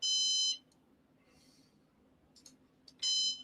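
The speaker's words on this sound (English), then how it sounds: "Well, I got a beep." A Synology NAS gives two loud electronic beeps, one at the start and one at the end, with quiet faint background noise in the pause between.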